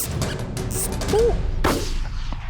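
A single sharp rifle shot cracks out across open hunting ground in Pennsylvania as a hunter fires at a fox, loud and abrupt against quiet outdoor ambience with faint earlier rustling.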